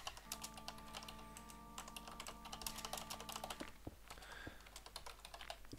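Rapid clicking of a computer keyboard being typed on, steady clattering keystrokes heard faintly over a low background hum, with no talking.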